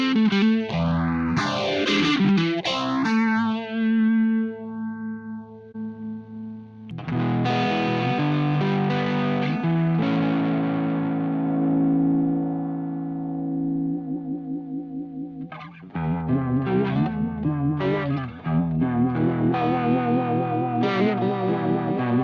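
A Blackstar Jared James Nichols guitar amp plugin with its vibe effect on: warbling, chorus-like electric guitar playing chords and riffs, loud and continuous with a pause near the start, with no voices.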